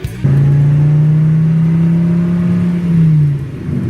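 Engine of Robotnik's combat vehicle in the video game Sonic the Hedgehog 2, a loud, steady low droning whir that starts abruptly, holds for about three seconds, then dips and fades.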